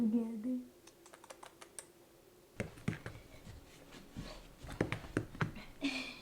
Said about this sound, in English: Her little hooves clicking on the floor.